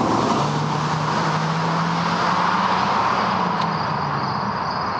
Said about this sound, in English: We're gonna pause for the vehicle because it's loud and annoying.